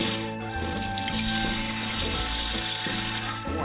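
Eggs sizzling and frying on a Blackstone flat-top griddle, a steady close crackling hiss with a low background hum, and no voices.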